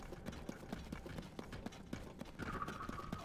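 Horse hooves clip-clop in a steady rhythm across the Zelda game world of Hyrule, moderately close, with a soft whinny-like tone and ambient game sounds joining toward the end.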